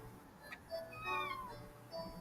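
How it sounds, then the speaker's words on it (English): Kittens meow a few times, thin, rising-and-falling cries that stay faint and somewhat distant over a low background hum, with no talking. "I can hear your kittens."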